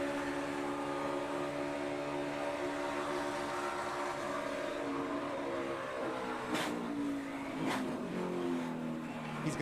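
A NASCAR race car's engine at Daytona drones with layered, sustained tones that shift downward as the car downshifts, backed by broad road and crowd roar, with a few sharp transient bursts near the end.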